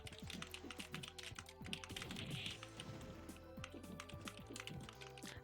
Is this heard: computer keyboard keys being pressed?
yes